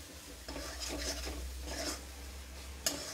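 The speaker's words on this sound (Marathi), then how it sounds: "हे व्यवस्थित मसाले आपल्याला याच्यामध्ये परतून घ्यायचे आहेत, शिजवून घ्यायचे आहेत" Spices being sautéed and stirred in a pan, with repeated scraping strokes of a spoon against the metal over a faint, steady sizzle, close and fairly quiet, with no talking.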